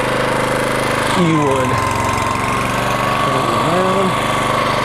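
A Toro Greensmaster 1600 walk-behind greens mower drones steadily and loudly at close range on a golf green, with someone speaking over the constant engine hum.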